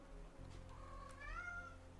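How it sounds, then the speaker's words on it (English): A pet cat gives a single drawn-out meow, rising then falling, fairly close but soft over a steady low hum. "It's my cat."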